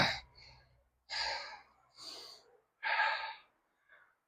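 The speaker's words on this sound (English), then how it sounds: "Oh, I get out of breath so easy" A person out of breath while moving buckets in a garden breathes heavily in four loud, close puffs and gasps with short pauses between, then a fainter fifth breath.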